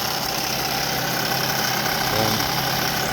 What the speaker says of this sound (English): The car is running, the AC working nice, car is smooth.